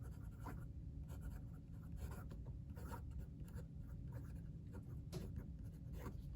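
A Pelikan M200 brown fountain pen filled with Pelikan Edelstein Smoky Quartz ink writes on paper in faint, scratchy strokes of uneven rhythm, heard close over a steady low background hum.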